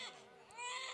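A storyteller mimics an infant's cry in a short, thin, wavering wail lasting about a second, quiet and held at a high pitch.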